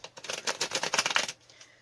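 Tarot cards are shuffled in a quick run of crisp, rapid riffling flutters lasting about a second, close by, then stopping into near silence.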